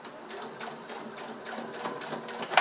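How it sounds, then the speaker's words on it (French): A sewing machine stitches fabric for a basket bag, running in a quick, even rhythm of needle clatter at close range, with no talking. "Je continue ma couture jusqu'à la fin."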